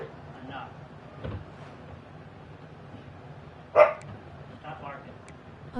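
A dog barks indoors during a game stream: a single sharp bark rises near the end, with softer yips earlier, over quiet background game sound and low chatter.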